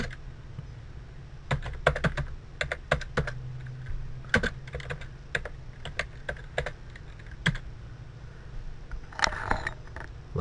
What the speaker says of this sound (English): Look what I've typed.